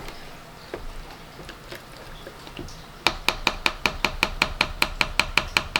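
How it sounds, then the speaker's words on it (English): Fruit fly culture medium being mixed in a container, heard as a steady run of sharp, evenly spaced scraping knocks that begin partway through, close and fairly loud after a quieter stretch of soft handling noise. "you'll mix it around, make sure all the medium is thoroughly mixed"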